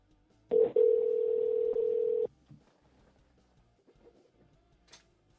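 A steady telephone tone sounds while a call is placed back to a caller, one loud sustained tone lasting under two seconds after a brief blip, then quiet line clicks follow.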